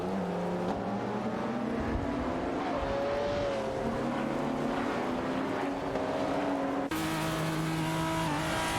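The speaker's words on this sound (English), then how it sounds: "Racing car dashing away." A race car roars loudly and steadily throughout, its engine note rising and shifting as it speeds away in an AI racing event, with a brief change in pitch near the end.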